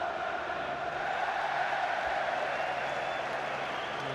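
Cardiff fans cheer Craig Bellamy inside a stadium at a League Cup final against Liverpool, a broad, steady wash of crowd noise with scattered applause that holds at an even level throughout.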